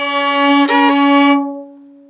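A single sustained bowed violin note on the open D string, rich and steady, ringing for over a second before the bow lifts and it fades away.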